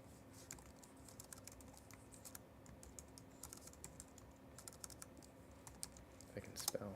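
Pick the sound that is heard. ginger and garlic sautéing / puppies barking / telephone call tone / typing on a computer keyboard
typing on a computer keyboard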